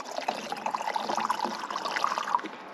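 Water trickles and splashes from a camping water container in the Grand Tetons, a close, uneven stream of burbling and dribbling that runs without pause.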